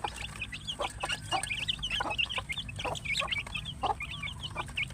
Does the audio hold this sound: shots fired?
no